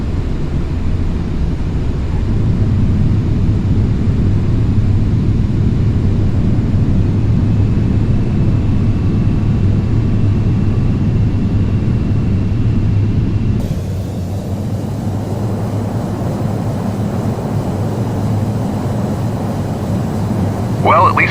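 An airplane touches down on a runway and rolls out, with a loud steady roar of engines and wind noise, then a quieter cabin drone as it slows, with voices faintly under the noise.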